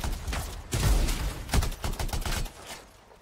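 Rapid bursts of gunfire from a sci-fi shooter game demo (Anthem), clustered shots with sharp transient peaks over a dense, busy game soundscape, loud and close, no talking.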